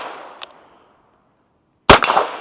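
A single loud, sharp crack from a Ruger GP100 revolver chambered in .22LR, close by, followed by a brief ringing tail; a faint click is heard shortly before in otherwise quiet surroundings.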